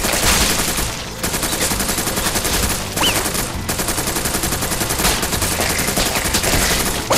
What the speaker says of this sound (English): I feel like this gun is so much less accurate than the original Uzi they gave me